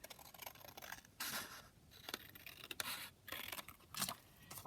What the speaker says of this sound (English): I might just cut this out and see how this looks.